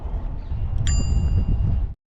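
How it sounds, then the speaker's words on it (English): A single bright ding from a bicycle bell rung by a cyclist on a shared pathway, heard close over steady road and wind rumble that cuts off abruptly. "the nice use of the bell by Mikey"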